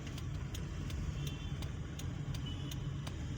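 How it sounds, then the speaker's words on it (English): Light night traffic on a quiet Kampala street: cars and boda boda motorcycles pass with a steady low engine rumble, and faint regular ticks sound over it. "There are just a few cars driving around and a few boda bodas"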